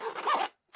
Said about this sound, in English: Pulls for the zips, make it easy to open it. No problem with the zip whatsoever.